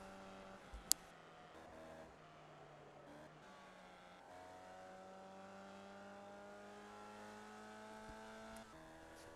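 Formula V race cars in a video game whine past on a circuit, sustained rising and falling engine tones layered from several cars, with a sharp click early on and a steady loud drone throughout.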